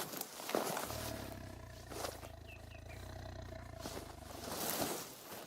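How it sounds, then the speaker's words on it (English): Tiger growling out in the wild, a deep, sustained low rumble that runs for several seconds at steady loudness, with faint rustling footsteps nearby. "I got a tiger on me."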